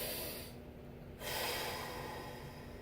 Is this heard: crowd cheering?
no